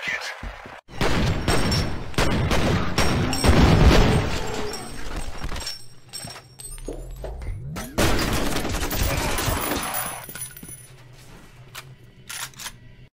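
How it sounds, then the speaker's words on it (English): Gunfire bursts from the F.E.A.R. video game, shotgun among them, loud and repeated in clustered blasts through the first half with more shots after a brief lull, heavy game combat noise throughout. "Shotgun action time."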